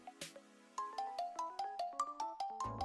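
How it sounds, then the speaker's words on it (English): A phone message tone from a visual novel game chimes, a few soft notes followed by a quick run of bright, evenly spaced plucked tones, clear and close. "my phone buzzes, the tone telling me it's a direct message and not a text in the group chat"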